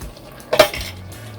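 A lid set onto a cooking pot of simmering chicken fricassee on a low flame, a single quick metallic clink close by followed by a faint low hum, with no talking.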